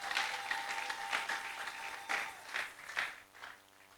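A church congregation applauds in praise, a faint, diffuse patter of many hands clapping with irregular swells and a fade toward the end, recorded from some distance.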